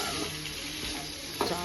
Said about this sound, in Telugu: అల్లం వెల్లిపాయ వేసుకొని అట్లా కొంచెం సేపు మగ్గనివ్వాలి.